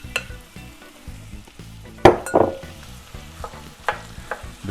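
Ground beef, about one and a half pounds, is dumped into a pan of softened onions and stirred, giving a steady sizzle with louder scraping and clattering stirs close by.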